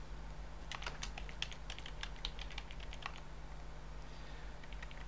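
Quiet, rapid clicking of keys on a computer keyboard as text is typed into an editor, irregular bursts of keystrokes with short pauses against faint room hum.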